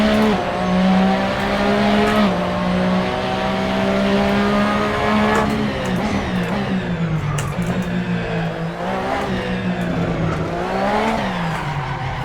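A race car in the Assetto Corsa racing game, its engine droning at steady pitch, then rising and falling as it revs through corners, with tire squeal mixed in, loud and continuous throughout.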